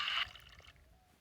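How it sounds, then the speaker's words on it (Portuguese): Water poured in the Toca Kitchen game while making strawberry juice, a short bright splashy pour at the start that quickly tapers into faint trickling. "Botar água aqui e vou fazer já o suco pra ela"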